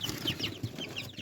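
Brahma rooster clucking nearby, a quick run of short repeated clucks over a steady indoor background, no talking.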